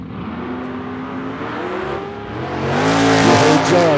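A drag race car on slicks at a West Coast Hot Rod Association season finals event spins its tires, its engine roaring loud and close and rising in pitch as the revs build, with tire squeal mixed in.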